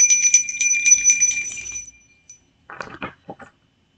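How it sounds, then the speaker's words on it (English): A handheld bell rings loudly with a bright metallic repeated ringing that lasts about two seconds and then fades, followed by a few short clinks and knocks. "I'm gonna ring this bell in 3,"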